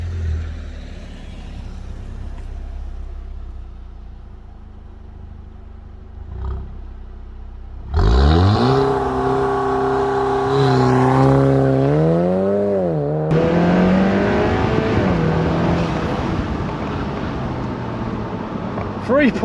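An Audi TT MK3 launches hard from a standstill with launch control, its engine note sweeping up through rising revs and shifting gears, loud and close, after a quieter idling stretch.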